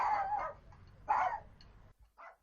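A pet dog in a family home in Morecambe barks in short nearby yelps, two strong barks followed by a softer third, over a low background rumble.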